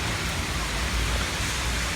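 Steady rain falling outdoors on a street corner, heard from beneath a ledge: a continuous, fairly loud broadband hiss of drops with no pauses.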